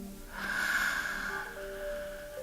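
A single deep inhalation during a guided breathing exercise, a long drawn breath rising and swelling before easing off, close and fairly loud with no talk over it.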